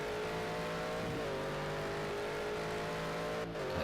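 A GT1 race car in a racing video game laps Silverstone GP with a loud, steady engine whine that briefly dips in pitch at a gear change, then holds at high revs.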